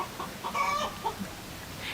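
A chicken clucks in short bursts on a homestead, a few brief calls close by over a quiet background.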